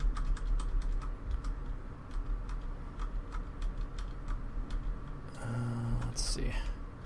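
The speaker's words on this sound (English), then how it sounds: "Something about the keyboard when you're really hitting it and it's like clacking" A computer keyboard is hit hard, giving rapid, uneven clacking keystrokes close up over a low rumbling background. Brief talk and other noises come in near the end.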